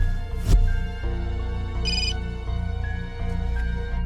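A phone rings after a call is placed, a loud, steady electronic ringtone of sustained tones that repeat with small pitch changes and a brief bright chime near the middle, alone at close range.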